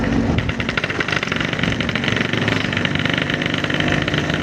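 A Yamaha RX King two-stroke motorcycle engine runs loud and close in second gear at high revs, with a dense, buzzing drone that stays steady throughout and no pauses.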